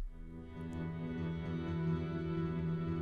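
Reversed E minor acoustic guitar scrape from the Heavyocity scoring library: a quiet, sustained swelling texture with low tonal drone and scratchy string noise, heard alone without speech.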